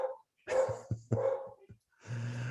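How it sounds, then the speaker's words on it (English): Pet dog barking at someone at the door, several sharp barks in quick bursts with a short gap, fairly close and loud, with no talking. "Sorry, my dog's barking and there's probably somebody at the door."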